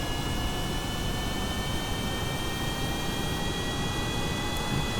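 A Boeing 747's jet engines in Kerbal Space Program spool up to a steady, loud roaring whine with a broad rushing hiss and sustained high tones, holding constant throughout with no voices.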